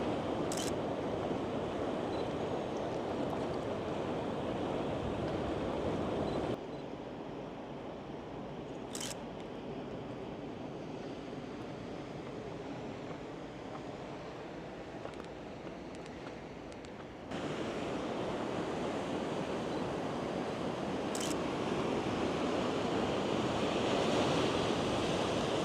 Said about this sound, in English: the waves are crashing down here